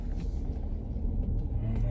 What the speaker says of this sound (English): there's so much traffic